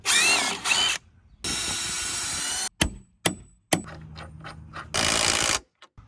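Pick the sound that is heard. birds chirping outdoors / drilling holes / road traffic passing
drilling holes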